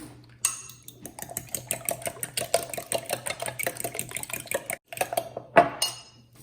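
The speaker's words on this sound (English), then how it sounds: "we're gonna crack 6 eggs in here" Six eggs are cracked into a bowl while making old-fashioned Thanksgiving dressing: a quick run of light, close clicks and taps on the bowl rim, with a low hum beneath and a sharper knock near the end.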